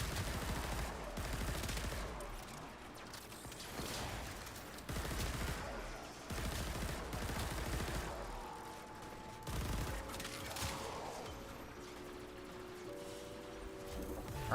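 A video game weapon fires homing missiles in rapid, repeated loud bursts, each blast followed by a whooshing tail, with a steady barrage across the whole stretch and tonal electronic game sounds near the end.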